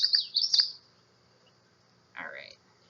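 A common yellowthroat sings thin, high chirping notes: a quick run of phrases up front, a pause, then another short bright phrase, clear against a quiet background.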